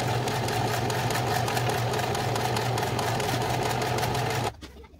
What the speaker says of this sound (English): I'm going to stitch my edges down. And I'm going to use a Teflon foot, so it hopefully doesn't stick as much.